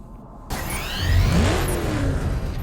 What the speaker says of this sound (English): I love the Batmobile in the game